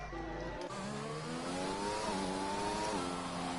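A race car engine in a racing sim climbs through the revs at the Australian GP circuit, with a harmonic whine rising steadily, dropping briefly at a shift, and climbing again, close and loud with no talk.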